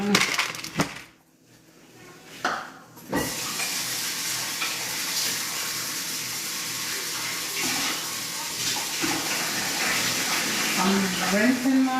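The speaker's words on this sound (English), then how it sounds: "I'm rinsing my rice" Rice is rinsed and swished in water while preparing a plant-based Beijing beef meal, with a continuous watery rush and stirring that starts after a short quieter gap and runs steadily to the end, with a faint voice near the close.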